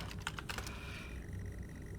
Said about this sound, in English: Alright, well then I'm just typing drive.